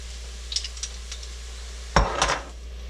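Venison and onions cooking for deer camp chili in a pot, with a few light clinks of utensils against the pot, then a sharper scraping stir near the end over a low steady background.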